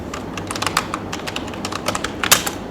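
Fingers tap out quick, uneven bursts of keystrokes on a computer keyboard, close and crisp, with brief pauses between clusters of clicks.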